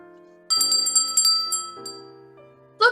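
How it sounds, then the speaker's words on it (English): A small hand bell rings from a Christmas tree in a played film scene from It's a Wonderful Life, with a rapid, bright tinkling for about a second. Lingering tones follow beneath soft music before a short ding at the end. "every time a bell rings, an angel gets his wings"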